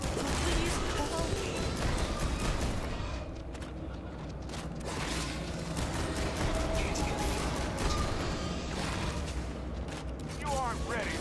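Automatic weapon fire in a video game, rapid bursts and booming impacts over dense battle noise, with a voice talking throughout.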